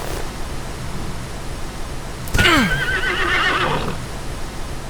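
A horse whinnies in the Hooves of Fire game, one loud, close neigh that breaks out midway over a steady hiss and trails off over about two seconds.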